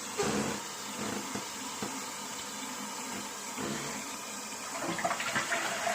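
Water rushes steadily into a toilet cistern once the supply is opened, a close, continuous gushing fill with no pause.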